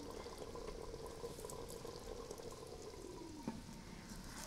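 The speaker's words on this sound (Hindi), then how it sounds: "कोयला रखने के बाद हम इसके ऊपर ऑयल डालेंगे 1 टेबल स्पून।" Oil poured from a tablespoon onto a hot coal set over onions in a chicken handi, giving a steady faint sizzle and hiss for several seconds, with one brief sharp crackle near the end.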